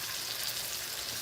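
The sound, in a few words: salmon and shrimp sizzling in a pan with seasoning juices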